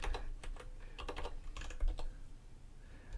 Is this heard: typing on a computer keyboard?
yes